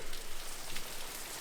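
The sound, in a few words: heavy rain soaking everything outdoors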